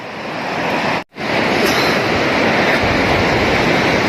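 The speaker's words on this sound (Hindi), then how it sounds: "यही रही भगीरथी नदी और ये इसका उद्गम हो रहा है" Bhagirathi river pouring from its glacier source at Gaumukh, a steady loud broadband roar of rushing water that fills the whole clip. One brief dropout interrupts it, and no voices are heard.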